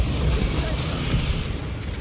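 Incendio fire spell cast in the video game Hogwarts Legacy, a loud dense roaring burst of flame with crackle and rumble, sustained across the moment with a voice talking over it.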